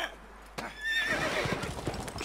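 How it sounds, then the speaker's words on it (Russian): A horse in The Witcher 3: Wild Hunt gives a loud, close whinny that rises after a brief lull, with hoof clip-clop and game noise around it. "Бедная лошадочка!"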